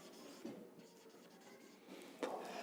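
Chalk or marker scratches across a classroom board in a few short strokes, faint and close, with soft scraping bursts and a louder stroke near the end, no talk.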